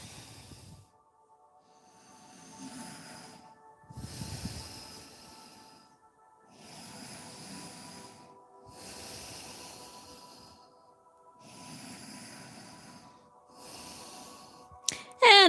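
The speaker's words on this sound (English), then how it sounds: "Inhale and exhale through your nose." Slow yoga breathing in and out through the nose, heard up close as about seven soft airy breaths with a steady rhythm, each lasting a second or two with brief pauses between, and a sharper noise at the very end.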